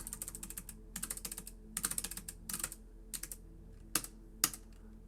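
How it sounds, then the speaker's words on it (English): Computer keyboard typing in quick bursts of clustered keystrokes separated by short pauses, ending with a couple of sharper isolated key strikes, close and fairly quiet with no talking. "we're typing up the solution to USAMO 4"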